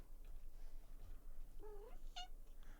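A pet cat gives two short meows close by, a rising wavering cry then a brief sharper chirp, faint over a low steady background hum.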